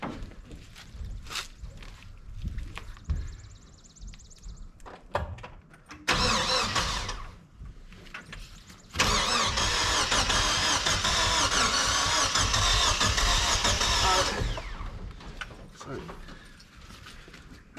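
The starter of a U-Haul mini truck cranks its engine in a short burst and then a longer grinding stretch of several seconds, mixed with footsteps and voices nearby.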